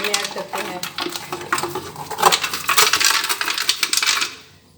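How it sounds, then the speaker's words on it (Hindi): Ice cubes clatter and rattle into a jug for falsa juice, with a busy run of hard clinks that builds in loudness before stopping abruptly, while a voice talks underneath. "ये देखें इस तरह हमारे पास ये बर्फ़ जमी हुई है, तो इसमें हम डालेंगे, बल्कि डाल चुके हैं"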